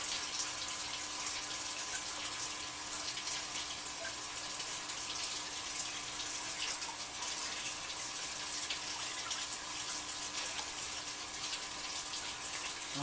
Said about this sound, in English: And I've sloshed it around quite a bit.